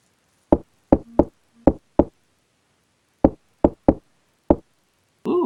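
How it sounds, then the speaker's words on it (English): Sharp wooden knocks tapped out in an uneven Morse-code pattern in a video game, nine crisp raps in two groups separated by a pause, close and clear against silence. "Ooh, knocking."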